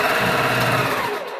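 A sewing machine runs briefly and loudly while stitching a quilt block, its fast motor whir sustained for about a second before slowing off.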